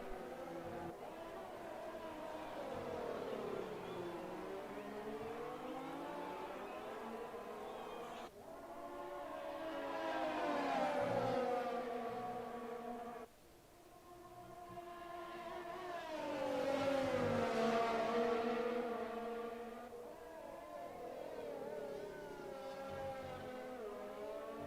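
Engines of F1 2020 race cars in a video game, sweeping through continuous rising and falling tones as several cars run an outlap in heavy traffic, steady and fairly loud throughout.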